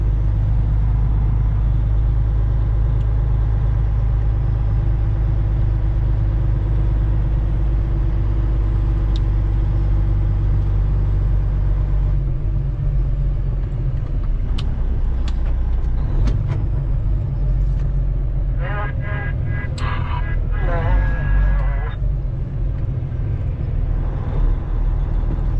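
Traffic jam on Interstate 94 in Michigan during a snowstorm: a constant low engine drone and idling rumble from stalled cars and trucks, with a few brief brake hisses and clanks, no voices.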